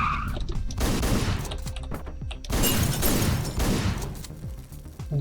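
Loud, dense shotgun blasts and chaotic gunfire crash in rapid succession in the top-down action game Hotline Miami, filling the mix with booming bursts and clattering impacts.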